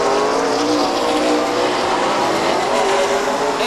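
Race car on the Stockton 99 Speedway oval spinning out under hard braking, a loud, continuous roar of engines with broadband tire noise filling the whole stretch, close and unbroken, with no talk.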